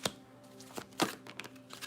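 Tarot cards being shuffled by hand: a few crisp riffling flutters and soft slaps, close and fairly quiet, spread unevenly over a couple of seconds.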